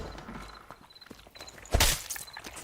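Barbarian's footsteps in Dark and Darker, soft scattered steps on a hard surface, then a louder clattering burst near the end.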